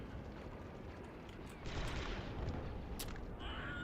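In the Star Wars Republic Commando video game, an object bursts after being shot, with a rough, noisy crackle of gunfire and blast that swells partway through amid the game's background din.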